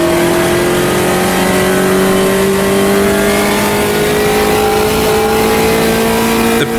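A Brazilian Puma race car in Automobilista 2 drones loud and steady, its engine note climbing slowly through the gears with a constant close-up roar.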